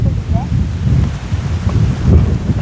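Wind buffets the microphone outdoors in a rice field during harvest, a steady, loud, low rumbling gust with faint voices underneath.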